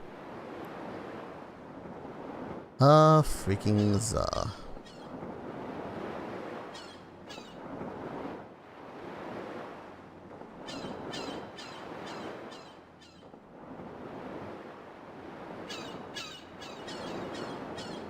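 Soft, steady ocean waves wash and hiss for a ship crossing in the video game Breath of Fire 3, with a brief loud burst near the start and a short spoken phrase early on.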